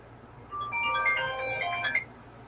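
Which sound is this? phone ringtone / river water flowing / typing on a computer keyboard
phone ringtone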